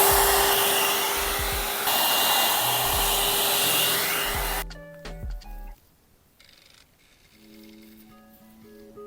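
An Aima Beauty one-step hot air brush hair dryer blows with a loud, close, steady whoosh that cuts off after about five seconds, leaving faint electronic tones and quiet handling.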